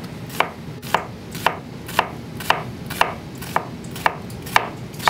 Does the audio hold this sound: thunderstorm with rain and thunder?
no